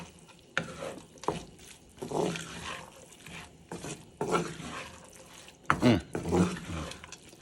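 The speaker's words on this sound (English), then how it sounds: "And now mix it all together." Bacon onion jam made with Jack Daniel's is stirred in a pan, giving repeated scraping and sizzling strokes in uneven bursts, loud and close, with a voice talking in between.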